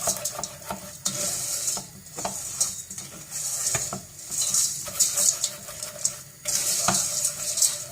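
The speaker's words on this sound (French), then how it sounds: "Voilà, donc on continue toujours à remuer." Thickening sugar syrup with glucose being stirred in a pan, a steady scraping swirl with soft liquid bubbling and occasional clinks, close and continuous with no talk.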